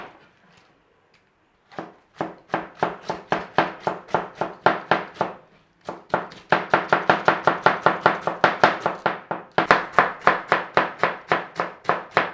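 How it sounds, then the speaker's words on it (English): A knife slicing cabbage thinly for vegetable egg rolls, quick steady chopping strokes on a board in close, sharp rhythmic bursts with a brief pause partway through and no talking. "Doesn't matter how you slice it, we just want really thin sliced cabbage."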